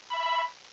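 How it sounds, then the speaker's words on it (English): A single short electronic telephone ring trills for under half a second in a quiet room, clear and moderately close, with no talking. "That darn phone. Never fails."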